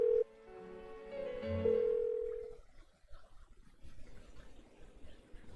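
Phone call tone in the video game Persona 4 Golden, a steady electronic ringing that stops after about two and a half seconds and gives way to faint background noise.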